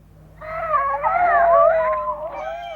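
Bagpuss, the cloth cat, gives a drawn-out, tonal, meow-like yawn as he wakes, close and clear, sliding in pitch over about two seconds before trailing off.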